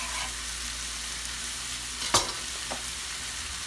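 Vegetables in olive oil fry in a pan with a steady, close hiss of sizzling, broken once by a sharp clack of a utensil stirring against the pan.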